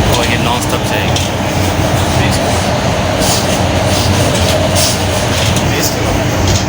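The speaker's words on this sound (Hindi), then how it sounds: "अब ये जो हमारी मेट्रो है, अब ये मेट्रो हमें सीधा कैपिटल इंटरनेशनल एयरपोर्ट ले जाएगी" Beijing metro train running nonstop on the 20 km line to Capital International Airport, a steady loud rumble and rail roar throughout with faint voices underneath.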